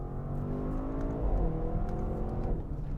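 Twin-turbo 2021 Audi RS Q8 super SUV engine pulling hard in second gear toward 5,000 rpm, a loud, steady rising roar close up with a gear-change shift midway and no talk.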